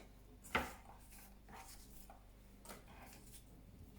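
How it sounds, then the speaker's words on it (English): Fruit is cut into small pieces on a board for a dessert, with one sharp chopping knock early on and a few softer taps and scrapes afterward, close up and quiet. "We continue cutting into small pieces."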